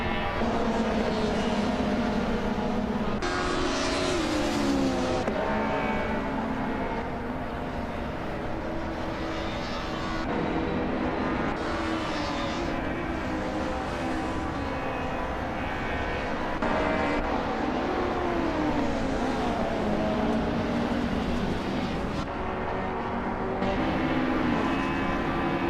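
Race cars roar through a racing video game, a loud continuous engine drone with shifting pitch and abrupt gear-change breaks, steady throughout with no pauses.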